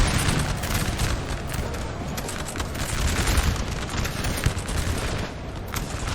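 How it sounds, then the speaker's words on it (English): French artillery fires in a Napoleon Total War 4v4 battle: a dense, continuous rattle of cannon and musket fire with scattered heavier booms, loud and unbroken throughout. "this French artillery is still firing"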